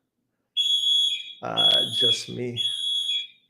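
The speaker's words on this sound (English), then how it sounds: "you're gonna start to hear the fire alarm, I think, that goes off" A building fire alarm emits a high, shrill electronic tone in steady bursts, moderately loud, while someone speaks over part of it.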